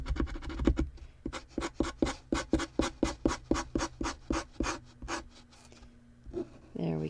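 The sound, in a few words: Arteza acrylic paint marker scratching while painting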